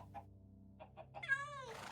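A cat gives one drawn-out meow before being fed salmon, heard close and clear after a few soft clicks and brief sounds.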